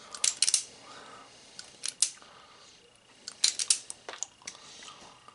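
Scissors snip wire or insulation during an air compressor motor repair, bursts of close, crisp cutting clicks in irregular clusters with quiet gaps between, no voices.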